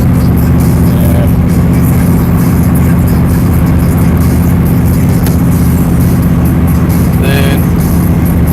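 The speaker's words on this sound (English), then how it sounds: "Inline 4-cylinder diesel. Yeah, that's powerful." Inline four-cylinder diesel engine of a road vehicle while driving, a loud steady low droning hum heard from inside the cabin, with a brief faint tone near the end.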